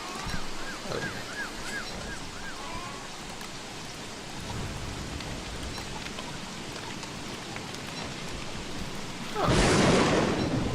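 Stormy rain in the Don't Starve game, a broad steady wash of rainfall with rumbling, ending in a loud, sharp thunderclap from lightning striking a lightning rod.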